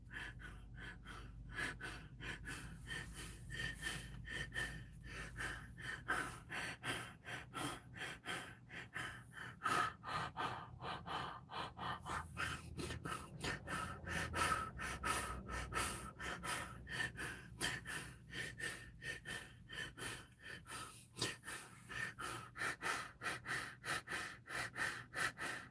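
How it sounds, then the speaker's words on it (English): Rapid, uncontrolled gasping and heavy breathing during a panic attack, close and continuous, with irregular sharp inhalations and snorts throughout. "I can't control my breathing"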